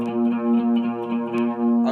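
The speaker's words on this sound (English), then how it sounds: "It should be your A and your D string should be the exact same." A sustained electric guitar note rings out steadily, the A and D strings tuned to the same pitch with a slight shimmering beat between them, then fades as it is damped.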